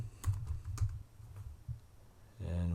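Keys tapped on a computer keyboard in a quiet room, a quick irregular run of soft clicks, then a short pause before a louder tonal hum comes in at the end.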